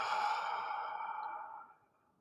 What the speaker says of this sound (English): exhale slowly